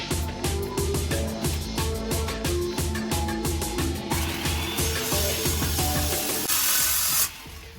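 Wood being cut by a Skilsaw worm drive circular saw, loud and close, with a pulsing rhythmic grind that gives way to a steadier rough cut before the noise drops away abruptly near the end.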